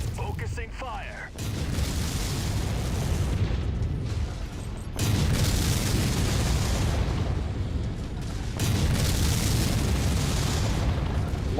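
Heavy mech weapons fire and rolling explosions from a MechWarrior 5 battle, a dense, loud barrage of booms and blasts that swells in waves with brief lulls between them.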